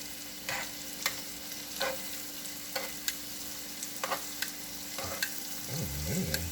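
Garlic shrimp frying in a pan with a constant sizzle, punctuated by sharp utensil clicks and taps as pieces are flipped, plus a brief scraping stir near the end; no talking.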